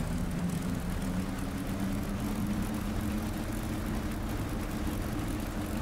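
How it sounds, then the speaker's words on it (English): The simulated engine of a Curtiss P-40F Warhawk in Flight Sim World runs up to about 1500 RPM, a steady, dense, droning roar with a low throbbing tone that holds constant throughout, no voices heard. "increase the engine RPM to 1500. So let's bring that up now to 1500"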